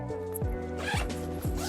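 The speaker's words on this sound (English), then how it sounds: "zipper this thing on the side here" A zipper on the side pocket of a travel backpack is pulled shut in three firm, ratcheting strokes, close and loud with nothing else over it.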